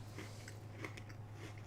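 Golden Oreo vanilla cookies being chewed close up, soft crisp crunches spaced through a quiet moment over a low steady hum.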